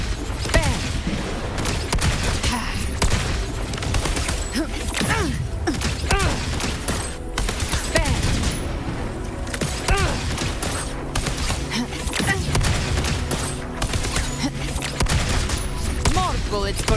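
Rapid gunfire from the video game Wuthering Waves, dense bursts of shots and thumps running continuously at a loud, steady level, with game music and effects layered underneath.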